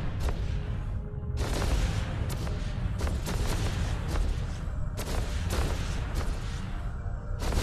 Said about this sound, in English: Approach and start shooting